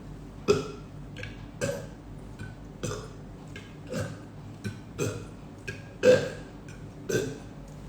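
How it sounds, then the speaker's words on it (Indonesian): Repeated burps from a person, about eight short guttural belches spaced roughly a second apart, fairly close and alone with a steady low background hum. "Sering sendawa."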